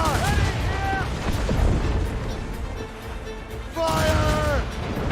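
Ship cannons fire in an Assassin's Creed Rogue naval battle, heavy booming blasts rolling under a game soundtrack with held tones, while shouted crew voices call out orders nearby.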